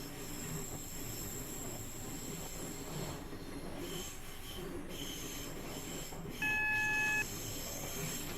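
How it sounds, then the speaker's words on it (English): A Networker electric train accelerates on the London-Faversham high speed line, heard from onboard as a steady wheel and motor drone with faint squealing and a short cab alert beep near the end. Nobody speaks. "Notice you get up to speed very quickly in this train."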